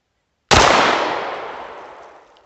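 A single loud, close gunshot from an American Tactical FXS-9 9mm handgun at an outdoor range cracks sharply and then rolls off in a long, fading echo, with no voices.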